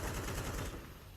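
Rapid gunfire in Counter-Strike 2 as a Mag 7 shotgun faces an AK rifle at close range during a competitive match, with dense, loud bursts that ease off toward the end.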